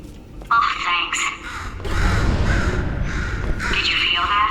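A crow caws several times in the Portal 2 video game, loud and close, with a voice talking over the calls.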